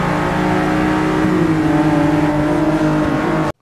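A Lotus Exige S engine revs up hard under acceleration, a loud close steady drone with rising pitch that holds for a few seconds then cuts off abruptly, no talking.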